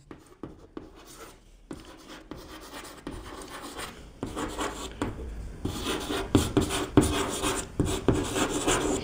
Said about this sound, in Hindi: देखो मैं यहां पे लिख के बता दूं